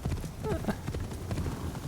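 A horse's hooves clip-clop at a steady cruising gait in Assassin's Creed Shadows, with a continuous run of quick, moderately close hoofbeats under faint background sound.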